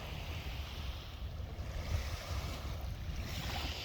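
Ocean waves wash onto a sandy beach as a faint, steady, distant surf hiss with no voices.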